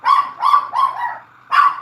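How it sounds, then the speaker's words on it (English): Prancer, a pet dog, lets out three quick barks in a row and then one more after a short pause. The barks are close and moderately loud, with no talking over them. "You hear my dog Prancer?"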